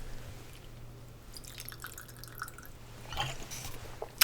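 Water pours out of a drinking bottle in a soft trickling, dripping stream, close and fairly quiet, with a few brighter splashes toward the end.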